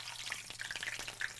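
Potato sausages frying in hot oil and pork lard in a pan on a stovetop, giving a quiet, steady sizzle with small crackling spatters and no talk.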